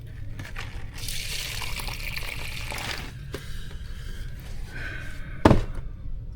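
Split peas rinsed under a running tap, a steady close gush of water splashing for several seconds, ending with a sharp knock of a pot or bowl near the end.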